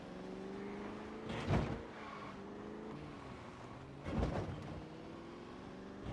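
Camaro engine in Project Zomboid droning steadily at low revs, with two brief surging accelerations and thumps as it rolls along, fairly quiet throughout.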